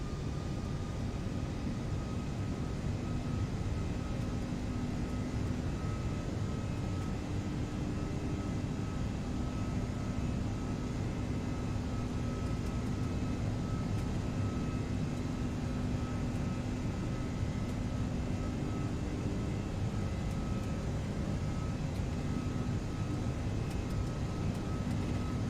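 Brussels Airlines A330-343X engines building up during the takeoff roll, a steady, dense broadband roar with faint tonal whine, heard from the cockpit throughout without a break.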